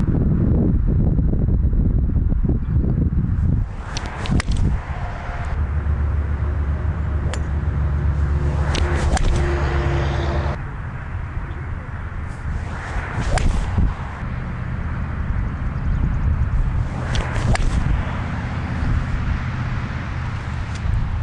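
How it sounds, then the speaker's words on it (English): Golf shots with a traditional 4-iron and a hybrid 4 club, a few sharp whip-like strikes spaced apart outdoors over steady wind noise and low rumble. "I hit the 4-iron, the traditional 4-iron, and I hit the hybrid 4"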